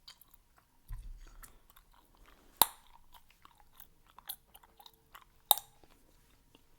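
Close, quiet chewing of Bazooka bubble gum with soft, irregular wet smacks and a couple of sharp clicks, recorded intimately for ASMR.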